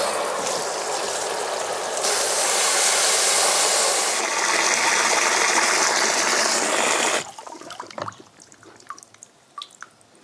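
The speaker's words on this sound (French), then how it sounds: "j'ai rempli mon seau d'eau" Water from a tap gushing into a bucket, a loud steady rushing pour for about seven seconds, then it stops, leaving faint drips and small knocks.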